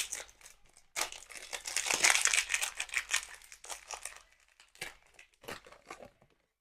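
Plastic and foil packaging of a Sonny Angel blind box crinkles and tears close up as it is unwrapped, in dense bursts followed by a few sparser rustles.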